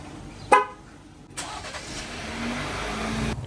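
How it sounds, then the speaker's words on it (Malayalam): A 2021 Jeep Wrangler starting by remote: a short, sharp horn chirp, then the engine cranks and settles into a steady mid-pitched idle that grows slightly louder. "ഈ ഒരു വാഹനം റിമോട്ടിൽ നമുക്ക് സ്റ്റാർട്ട് ചെയ്യാൻ പറ്റും. അതാണ് നിങ്ങളിപ്പോൾ കണ്ടത്."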